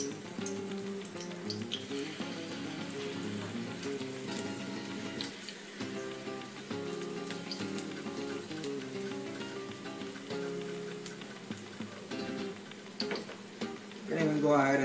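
Bacalaitos, salt cod fritters, frying in oil in a pot, a steady dense sizzle and crackle that holds evenly throughout, with tonal background music layered over it.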